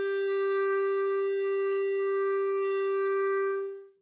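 A reed instrument holds a steady, clean note A for about four seconds, a single sustained tone that fades out at the end, played alone.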